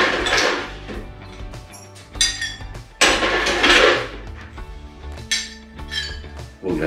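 Ice cubes drop and clink against a glass of pastis, with repeated bright, sharp knocks and rattles, loud and close, coming in irregular bursts.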